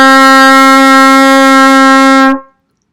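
A single sustained trumpet note D, fingered with first and third valves, rings out clear and loud with a bright harmonic tone for over two seconds, then cuts off cleanly into silence.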